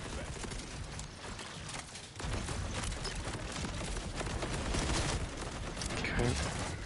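Dense, continuous gunfire in Borderlands 4, near and loud, with bursts of shots running through the whole stretch and a voice talking over the firefight.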